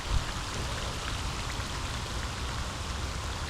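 Steady rain falls during a fishing outing, a constant close hiss of drops landing on surfaces with no talking.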